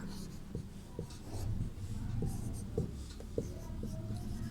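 Chalk taps and scratches across a classroom board as numbers are written, a series of short, quiet strokes with light rubbing between them, no speech over them.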